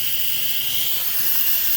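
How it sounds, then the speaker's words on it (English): Steam rushes from the release valve of an Instant Pot pressure cooker after cooking ribs, a loud, steady, close hiss that holds unbroken throughout. "We're gonna release all the steam out of this sucker."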